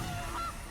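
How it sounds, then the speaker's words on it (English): A single short goose honk from the MTG Arena card game sounds alone, a brief nasal call over a quiet background. "There's a goose."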